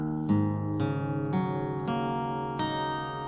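Electric guitar strings tuned down a half step to D sharp standard are plucked one at a time, each note ringing over the last in a slow sequence of about six strikes, no talking.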